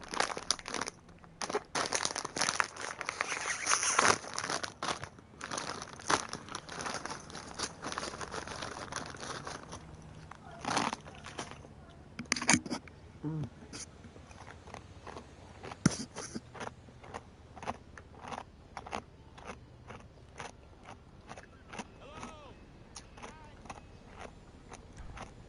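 Crunching and crinkling, like chewing or crushing food close to a microphone during a GTA 5 play session, in irregular bursts that are loudest early on and then patchier and fainter.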